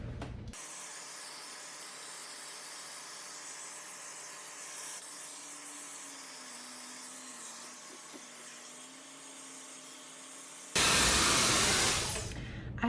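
Hair dryer fitted with a diffuser drying curly hair, a steady whirring hum that runs for about ten seconds before a louder, harsher blast of air at the end.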